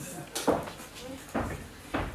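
A door opens and shuts indoors in a French-language scene, giving a few soft wooden knocks and clunks at uneven intervals, fairly close and quiet, with people talking.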